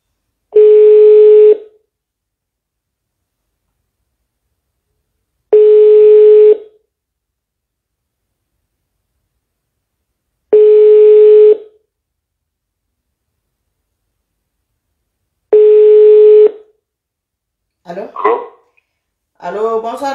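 A phone call being placed shows up as four long, evenly spaced ringback tones about five seconds apart, clear and steady, followed by a voice answering on the line.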